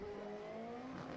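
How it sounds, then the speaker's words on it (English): A Pikes Peak rally car drives past a commentary booth at the Dirtfish Rally School event, its engine note rising and sliding as it passes, fairly faint and distant with a steady background hum. "We're watching the Pikes Peak car come past the commentary booth"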